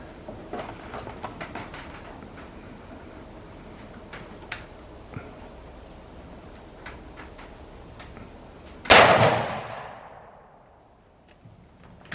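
A Ruger Ranch rifle chambered in 7.62x39 fires a single loud, sharp shot that echoes and fades over about a second, with faint ticking and outdoor ambience before it.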